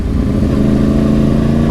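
A 2010 Yamaha R1 crossplane 1000cc sport motorcycle engine running at low speed while riding, a loud steady droning hum with a rough, slightly uneven pulse throughout.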